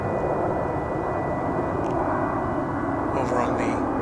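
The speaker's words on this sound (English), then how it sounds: "That plane that's coming in" A fixed-wing airplane comes in to land at DFW Airport, a loud, steady engine roar filling the scene while faint voices pass briefly over it near the end.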